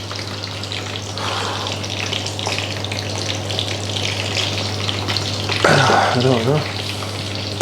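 Twice-cooked potato chips fry in hot oil, giving a steady loud sizzling hiss with a constant low hum beneath it, while a voice speaks briefly partway through.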